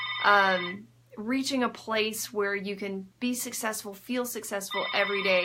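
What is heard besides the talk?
telephone ringing in an office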